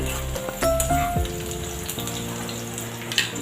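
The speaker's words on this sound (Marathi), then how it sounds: "ते गरम झालेले आहे. मी त्यात ऑनियन टाकलेला आहे" Chopped onion sizzles and fries in hot oil for a samosa stuffing, a steady close crackle with a few clinks of a utensil, no talking.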